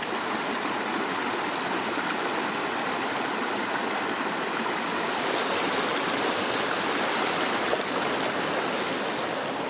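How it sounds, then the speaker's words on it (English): A rushing mountain creek in Horn Fork Basin, Colorado: a steady, loud, broadband roar of fast water tumbling over rocks, continuous and unchanging close by, with no voices. "And this creek is really rushing up here."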